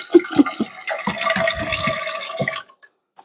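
Tap water runs steadily into a kitchen sink for about two seconds, preceded by a few short clunks and splashes, then cuts off to near silence; close and moderately loud.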